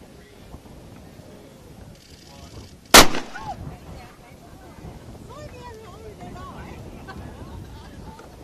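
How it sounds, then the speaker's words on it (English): A single loud, sharp blast from a signal gun marks the start of the 2013 Clipper Round the World yacht race at Southend, UK, ringing out once near the microphone amid wind, water and talk from people nearby. "Shall we just step back a bit and watch this gun actually go off here?"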